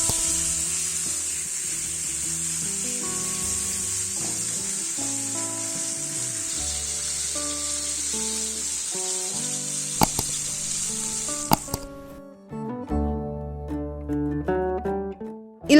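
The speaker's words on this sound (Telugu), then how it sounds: "సో 5 మినిట్స్ వరకు హై ఫ్లేమ్ లో ఫిష్ ని ఫ్రై చేసుకోవాలి." Spicy masala fish fries on a tawa over a high flame, giving a steady hiss of sizzling oil beneath background music until the sizzle cuts off near the end.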